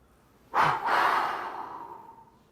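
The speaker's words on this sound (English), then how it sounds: "When you're ready, breathe out" A single slow, deep exhale from a yoga pranayama breathing practice, close and clear, opening with a soft breathy rush and then trailing off gradually over about two seconds.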